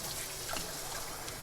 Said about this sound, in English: Again with the wash of the hands, okay?